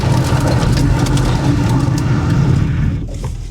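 A Rover Classic Mini Sidewalk engine revs loudly and close while driving, a deep, throbbing rumble that holds steady and then eases off near the end.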